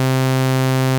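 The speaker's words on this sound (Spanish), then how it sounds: "aquí la predeterminada es un sawtooth que tiene bastantes armónicos, es bastante rico en ese sentido. Y pues esto suena así." A Vital software synthesizer plays its default sawtooth wave on a single C note: a steady, bright, buzzy tone rich in harmonics that is held evenly and heard alone for about a second.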